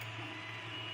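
A 3D printer runs steadily through a print, giving off a continuous mechanical whir and hum of stepper motors at a low, even level with no voices.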